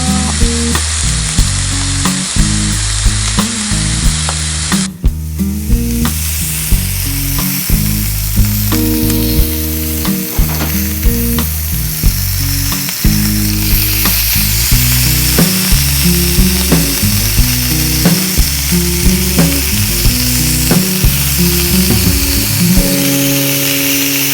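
Pork belly sizzles steadily on a grill in a Filipino home-cooking setting, a dense, continuous frying crackle with no break over the whole stretch, with a tonal musical backing underneath.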